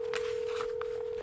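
A steady telephone dial tone hums for just over a second as a few faint button presses sound over it, close and clear.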